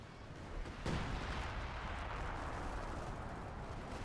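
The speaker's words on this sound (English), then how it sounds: "LEFH is firing" A leFH howitzer booms once in Company of Heroes 2, a heavy low blast near the one-second mark followed by a long rumbling tail over dense battlefield noise.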